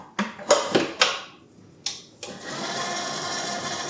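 A stand mixer starts up to mix a country-style levain bread dough, with a few sharp knocks and clatters first, then the motor settles into a steady whirring hum that runs on evenly.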